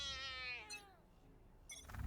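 A cartoonish cat in the Valorant Halloween bundle video game gives a single clear, drawn-out meow that falls in pitch, followed by near silence and a few faint clicks.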